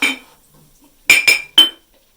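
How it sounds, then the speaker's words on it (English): Glass jar and its glass fermenting weight clinking while ferment is tipped out, one bright clink followed by a quick double clink and a third a moment later, close and sharp over near silence. "That's what that clinking was."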